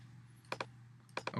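A few keys tapped on a computer keyboard, in two quick pairs of clicks with a pause between them, close and fairly quiet over a low steady hum.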